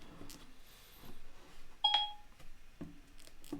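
A phone's voice assistant gives a short, clear two-tone activation beep, standing out over a quiet room with faint scattered voices before and after.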